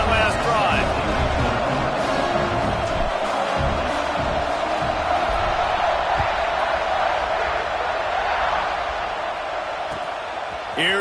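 A football stadium crowd roars continuously before a kickoff, a dense loud wall of cheering and shouting with a broadcast announcer's voice mixed in.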